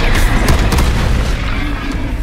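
A loud, booming blast from an Expulso explosion spell in the video game Hogwarts Legacy, with a sustained roar and crackle that fills the whole moment.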